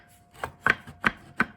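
Scrap wood pieces knocked together by hand, giving four sharp, hollow clacks spaced about a third of a second apart, close and clear with no talking.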